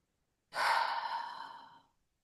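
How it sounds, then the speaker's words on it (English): A single deep exhale during a guided self-massage relaxation, a breathy rush that starts suddenly, swells, then tapers over about a second and a half, close and alone in silence. "take a deep breath from your heart down to your pelvic bowl"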